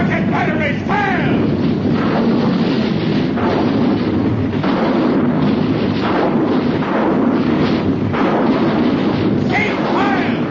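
Artillery and rocket batteries firing in an old-time science fiction radio drama: continuous loud booming and rumbling barrages with bursts, alongside voices and shouted commands.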